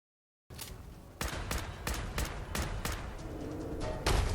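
Repeated .45 caliber gunfire in the video game Fallout 4 during the Swan boss battle: a steady run of loud, sharp shots spaced irregularly over a rumbling battle backdrop, closing in a louder burst.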